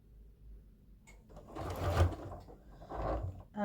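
A sewing machine runs in short bursts while stitching down the middle of a chenille strip for a Christmas sewing project. The motor is quiet at first, then swells into two louder runs with a brief easing between them.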